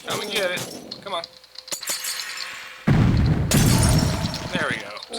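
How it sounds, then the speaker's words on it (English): Glass shattering underfoot in the video game Wrath of Cronos, a burst of breaking and tinkling debris amid game sounds, with a voice talking over parts of it. "Just stepped on broken glass."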